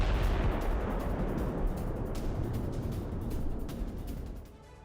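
Russian FAB-500 air-dropped bombs explode in Kherson, a sustained heavy rumbling roar with low booming that fades over several seconds.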